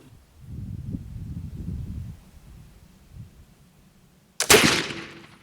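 A muzzleloader touches off a charge of homemade black powder in one sharp, loud report near the end, after a stretch of low rumbling background noise.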